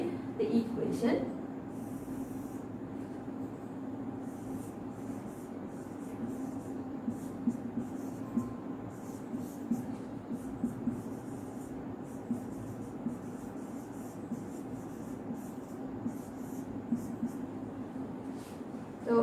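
A pen scratches steadily across paper while a tangent-line equation is worked out by hand, a continuous close, soft scribbling texture with small breaths and slight pauses throughout.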